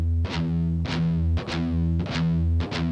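Distorted electric guitar chugging palm-muted pedal tones, repeated phrases with sharp pick attacks every half second or so, loud and close with effects-laden tone, no voices.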